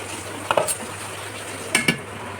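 Chicken biryani rice in a pot being mixed for a Kozhikode-style biryani, two short bursts of scraping and clattering from the spoon against the pot over a quiet steady background hum.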